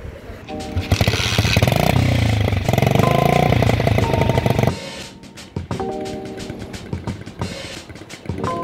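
A motorcycle engine rumbles and revs loudly and close by, with bursts of throttle and an uneven, throbbing idle, and the sound shifts partway through.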